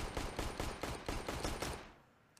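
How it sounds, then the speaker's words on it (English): Glock pistol fire in a CS:GO match on Inferno, heard as a rapid, evenly spaced string of about ten sharp shots that then stops, leaving a faint tail. "Shoot that Glock more, I dare you."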